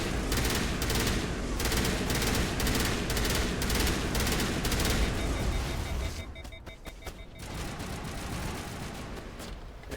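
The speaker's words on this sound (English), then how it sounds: "at least now he's shooting things" Sustained rapid automatic gunfire in the Mass Effect video game, loud and continuous for about six seconds, then dropping to lighter scattered shots and combat noise.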